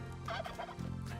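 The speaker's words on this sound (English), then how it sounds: "We got turkeys. We got turkeys." Video game turkeys gobble in a dense, warbling chorus over a steady, humming game soundtrack.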